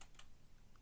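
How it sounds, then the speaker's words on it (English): Typing on a computer keyboard gives a few faint, soft key clicks in a quiet room. "I'm typing in the person's name and it's not coming up on the list"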